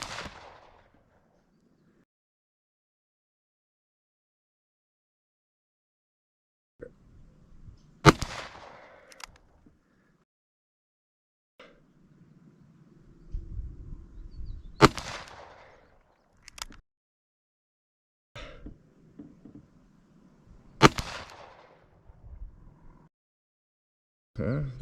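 A Ruger GP100 revolver fires loud, sharp gunshots during an ammunition test, spaced several seconds apart with long quiet gaps between them, and handling noise is audible in between.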